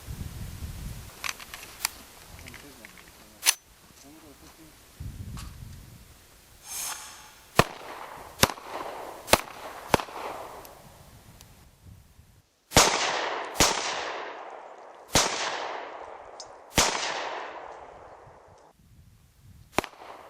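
Suppressed shots from a 9mm K5 pistol fired in a test, a series of sharp, loud cracks spaced a second or two apart, the later reports ringing with a short decaying echo.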